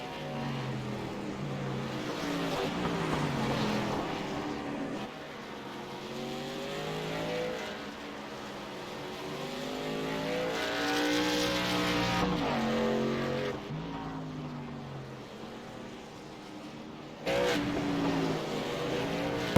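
Racing karts in the TRJ Karting truck series run at the Roval, a continuous loud buzzing of small engines rising and falling in pitch as they pass, with a brief burst of added noise near the end.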